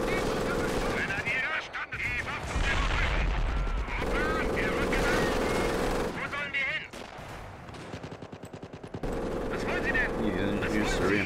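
Machine gun and mortar fire in Company of Heroes Blitzkrieg during a trench defense, dense bursts of rapid gunfire and heavy booms with brief lulls, loud and continuous over the whole stretch.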